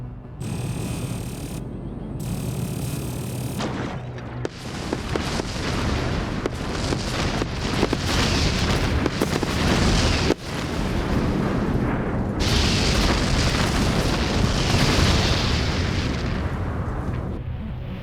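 Spaceship fleet being destroyed in an Endless Space 2 space battle: loud, continuous rumbling explosions and booming blasts with mechanical clatter, surging and swelling for the whole stretch without pause.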